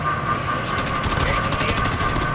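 Rapid automatic gunfire in a video game, a dense burst of shots rattling over a steady background hum, heard up close, with a voice faintly present.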